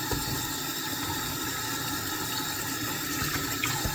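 Water runs steadily from a tap as a dishwasher part is rinsed after soaping, a constant close splashing hiss with a few brief clatters near the end.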